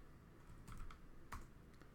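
Typing on a computer keyboard, faint and close, with a few scattered key presses clustering into short bursts amid quiet gaps, no talking.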